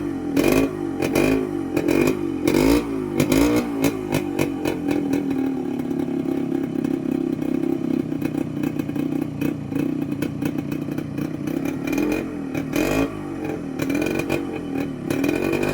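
A Yamaha RX100 motorcycle kick-started and idling: several sharp uneven bursts at the start, then a steady, loud two-stroke idle with rhythmic popping, and a few blips of the throttle near the end.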